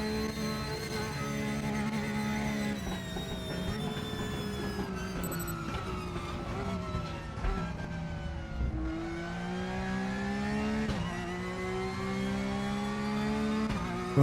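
Porsche Cup race car engine screaming through a lap, loud and close, pitch climbing steadily through each gear then dropping sharply at the shifts, a continuous high whine with no talking.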